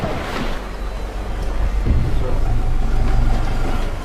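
Water taxi boat running along the Grand Canal in Venice, a steady engine rumble with wash and wind noise sweeping past, fairly close and continuous, no talk.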